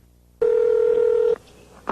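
A single steady touch-tone beep from dialing a phone call, loud and close, lasting about a second before it cuts to quiet line noise and a faint click.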